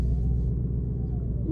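Deep, steady engine rumble from a Ford Mustang GT on a drive to work, heard from inside the car as a continuous low drone with no gaps.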